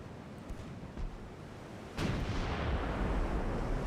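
Naval guns firing armor-piercing shells in the warship game Ultimate Admiral Dreadnoughts, a low rumbling background that jumps into a heavy, sustained booming roar halfway through, with no speech.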